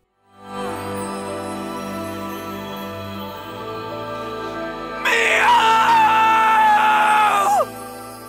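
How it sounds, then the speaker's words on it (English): A character in the Xenoblade Chronicles 3 video game, voiced by Harry McEntire, lets out a long, strained, piercing shriek over a dark, droning game score. The shriek swells at the midpoint and cuts off abruptly. "we got another amazing shriek out of Harry McEntire"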